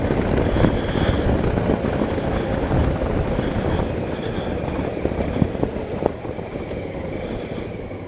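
A 2016 Honda Africa Twin motorcycle rides along in fully automatic mode, engine droning steadily under heavy wind rush, with gear changes coming early and barely standing out from the constant roar.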